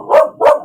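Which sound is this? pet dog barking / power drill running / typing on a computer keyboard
pet dog barking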